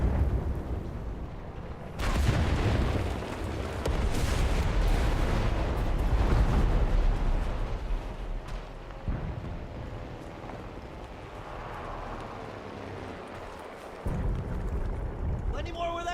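Artillery shelling in the shooter Enlisted, with loud heavy blasts that rumble on continuously and crackle with debris before dying down and another burst lands near the end.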